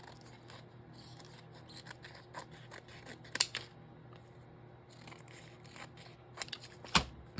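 Scissors snipping through a card in a quiet room, a scattered run of small close crisp clicks and cuts, faint overall, with a couple of sharper snips standing out and no talking.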